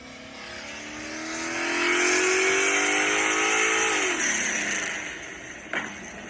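A roofless pro drift car's engine, with an 8-to-1 compression build and individual throttle bodies, revs up and holds a loud, rising howl before dropping back, heard close with no talking.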